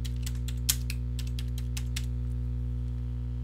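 Quick bursts of keystrokes on a computer keyboard as a placemark name is typed in Google Earth, clicking close and crisp in an uneven run for about two seconds over a steady low electrical hum, then stopping while the hum continues.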